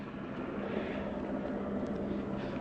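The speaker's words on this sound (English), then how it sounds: "The helicopter's moving off." Helicopter moving away above the Hollywood Sign in California, a steady low rotor and engine drone that stays fairly faint and even throughout, with no talk.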